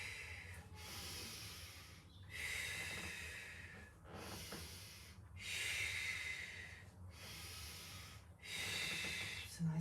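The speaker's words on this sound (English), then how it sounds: "And I'm breathing in, breathing out, breathing in," Steady Pilates breathing, five or six long audible breaths in and out in an even rhythm, close and fairly quiet, without any talk over them.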